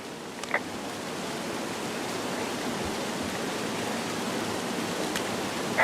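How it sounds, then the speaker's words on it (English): Waterfall in the Firewatch game, a steady broadband hiss of falling water heard from nearby, constant and unbroken for the whole stretch with a couple of faint light clicks on top. "It's a really nice waterfall down here."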